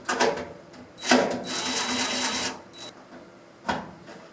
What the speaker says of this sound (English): And then you just set it down and screw it in